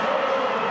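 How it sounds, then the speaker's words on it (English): A partisan West Tigers rugby league crowd at Campbelltown, heard as a brief, steady roar of distant cheering in a stadium. "a very partisan West Tigers crowd here at Campbelltown"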